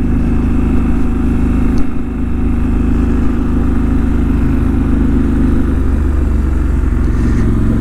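A 2019 Triumph Scrambler 1200XE motorcycle engine runs loud and close while riding, a steady low rumbling drone with a brief dip near two seconds, no voices.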